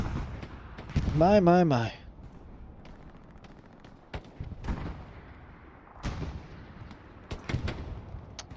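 Gunfire in a competitive video game match on the Utah Beach map: sharp, scattered shots at moderate distance under a commentator's voice, with a brief tonal game sound early on.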